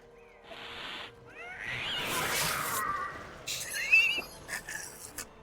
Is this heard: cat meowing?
yes